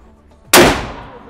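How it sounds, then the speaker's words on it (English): A single loud 12-gauge shotgun blast, fired close, arrives after a quiet lead-in. It hits with a sharp onset and a booming tail that rings out and slowly fades. "that's just a 12-gauge shotgun"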